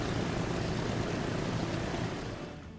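Propeller passenger airliner in the video game Transport Fever 2, a steady broadband engine drone that holds loud and constant, then eases off slightly toward the end, with no voices.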